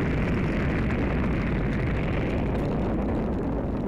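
Rocket launch in the video game Black Mesa: a loud, sustained roaring rumble with crackling, explosive texture, steady and dense throughout with no pauses or talk.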